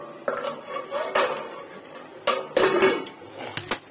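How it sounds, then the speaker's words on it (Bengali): Metal lid being put back onto a cooking pot of potato curry, several clattering metallic clinks and scrapes spread over a few seconds, with no talking. "চলুন আবার ঢাকা দিয়ে দিই।"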